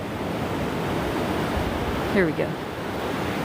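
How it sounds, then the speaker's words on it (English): Ocean surf rolling in on Mission Beach, San Diego, a steady broadband wash on a morning walk, with a voice briefly speaking near the end. "I'll point you out to the ocean."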